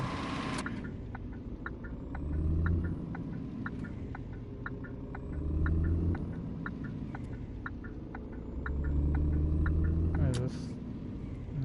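A truck engine in a PS4 trucking game rumbles low and steady, swelling in waves with rhythmic clicking ticks over it, while someone talks intermittently over the drone.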